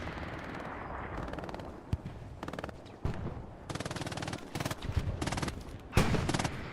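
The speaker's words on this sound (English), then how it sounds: "Drunky laying down some hate with this MG fire along the back side" Machine gun fire in a large 35 vs 35 multiplayer shooter match, rapid repeated bursts of rattling automatic fire with scattered single shots, moderately distant and fairly quiet.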